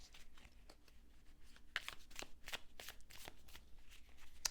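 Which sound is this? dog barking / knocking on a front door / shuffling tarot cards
shuffling tarot cards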